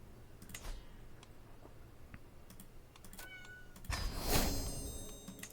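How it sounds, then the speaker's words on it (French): A house cat meows for food in a few short, faint calls among light computer keyboard typing and clicks, with a louder burst of noise near the end. "Mon chat qui essaie de me réclamer de la nourriture, mais ça n'est pas l'heure."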